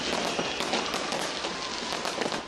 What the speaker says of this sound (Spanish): Sydney dio la bienvenida al Año Nuevo con un espectáculo de fuegos artificiales